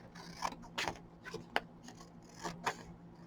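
Scissors cutting sheets of sublimation paper down to size: a series of crisp snips and papery rasps, several distinct cuts spaced over a few seconds, close and fairly quiet with no talking.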